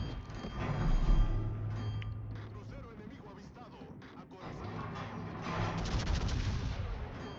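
Heavy naval guns of the warship Victoria fire HE shells in World of Warships, producing deep booming salvos over a continuous low battle rumble, moderately loud, with game effects layered throughout.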